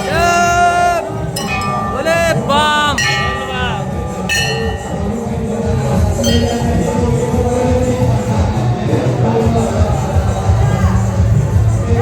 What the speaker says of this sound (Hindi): बहुत भयानक भीड़ छै देखियो